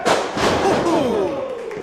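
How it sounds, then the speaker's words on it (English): A wrestler slams onto the ring mat with a heavy Uranagi impact, a loud crowd-filled burst that fades under roaring arena noise and commentary. "Huge thud in the center of the ring, looking for that cover."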